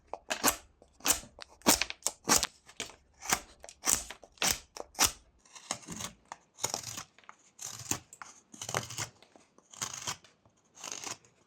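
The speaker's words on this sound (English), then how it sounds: "we're going to start with sweeping cuts" Knife whittling a small wooden reindeer with sweeping cuts, a sharp series of rapid scraping strokes, quick and regular at first, then slower, rougher shavings, close and distinct against quiet.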